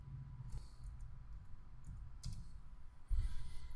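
Mouse clicks in GibbsCAM software, a few faint, close clicks spread over a quiet room tone, ending with a louder double click.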